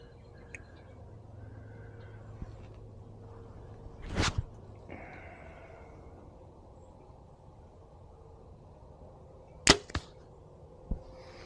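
Arrows loosed from a bow at a target using a True Ball Max Hunter thumb release: two crisp shots seconds apart, each a sharp snap with a short swish and a thump downrange, plus a few soft clicks and handling noises in a quiet outdoor setting.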